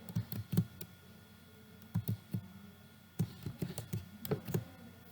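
Keystrokes on a computer keyboard come in short bursts of clicks, close and moderately quiet, while a Python program is being written, with brief pauses between groups and no voices.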